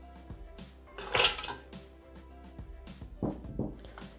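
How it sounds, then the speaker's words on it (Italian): Chocolate pieces drop into a Thermomix TM6 bowl for a pandoro semifreddo, giving a few faint, close clinks and rattles with short gaps between them. "Mettiamo all'interno del boccale il cioccolato."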